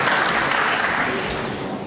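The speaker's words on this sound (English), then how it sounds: "the crowd began to clap and then realised the implications of where the red was going and stopped" Snooker crowd at the Paul Hunter Classic giving a short burst of clapping that quickly thins out, a brief, fairly loud patter of applause.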